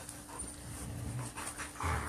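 Several pet dogs pant and snuffle close by, with a faint whimper and some shuffling movement around them.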